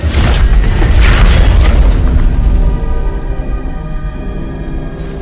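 A loud, booming explosion rocks a starship under attack in the Star Trek Online game, a heavy blast that rumbles and then slowly decays into a lingering mechanical hum.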